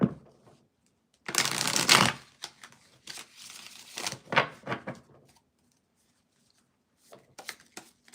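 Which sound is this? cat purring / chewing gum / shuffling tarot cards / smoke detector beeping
shuffling tarot cards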